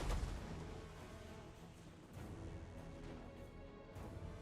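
Heavy artillery fire in Rome II: Divide Et Impera battering a defensive tower, a dense run of deep booms and crashing impacts rolling on continuously at moderate volume, with no speech.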